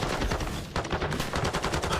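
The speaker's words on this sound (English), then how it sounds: "Still bullets flying in from Boston." Rapid video game gunfire in an esports match, dense bursts of shots rattling in quick succession throughout, steady and fairly loud with no talk over it.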